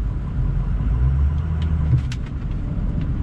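A 2006 Ford F350 Lariat 4x4 diesel pickup reverses slowly in four-wheel low, with a steady low engine rumble and drone throughout, close and continuous, no talking.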